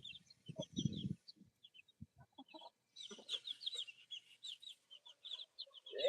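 Backyard chickens and roosters clucking around a coop on a calm day, soft scattered clucks and short calls at close to middle distance, with bursts of rapid chatter and a few low thumps.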